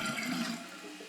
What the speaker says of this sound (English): slightly lift up on the handle to add some water to the bowl if needed